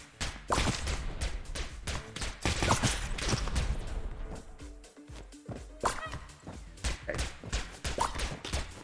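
Rapid gunfire from the roguelike shooter Neon Abyss, a dense run of sharp shots and impacts that keeps going throughout, with game music and effects mixed underneath.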